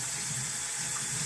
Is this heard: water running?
yes